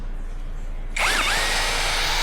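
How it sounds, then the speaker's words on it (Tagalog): A Tanzu 13mm cordless shock drill spinning up after a short quiet moment, its motor whine rising in pitch and then holding a loud, steady high-speed drone close by. "Tanso na 13mm yung shock drill, 13mm to."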